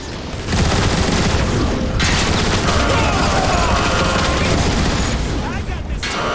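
Dense, continuous gunfire from the Transformers: War for Cybertron video game rattles loudly and close, a sustained barrage with a brief dip before resuming, overlaid with game voices.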